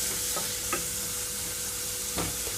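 Onions and green chillies fry in a pan with a constant hiss of sizzling oil. A few light scrapes of stirring cut through it, and nobody speaks.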